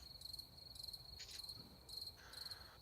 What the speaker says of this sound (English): Crickets chirping. It's behind the music.